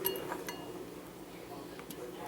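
A utensil clinks a few times against a dish while Velveeta is stirred in for a homemade queso dip: brief, light taps, faint and close.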